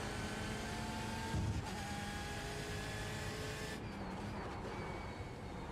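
A race car engine in the iRacing sim held near its rev limiter while running in a slipstream, a steady high-pitched drone that dips briefly and then climbs again, heard alone with no talking.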